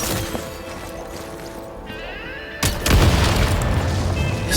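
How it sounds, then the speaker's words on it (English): A deep boom from explosives detonating in Genshin Impact lands around the midpoint and gives way to a loud, sustained rumbling crash over a game soundtrack, with no talk. "Shoot the explosives to detonate them and clear the path."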